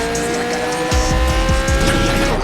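Car in the Gangstar IV game at night revving hard and accelerating, with a steady engine drone joined by a series of loud rhythmic tire squeals and skids.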